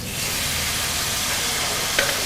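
Mashed tapioca (kappa) goes into a pan of sautéing aromatics, making a steady, close sizzle and hiss with a faint scrape of stirring near the end.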